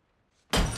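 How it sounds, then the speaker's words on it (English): Glass tchotchkes smashed in a sudden loud crash after near silence, a bright shattering burst that carries on with scattering debris to the end. "Just like smashing tchotchkes"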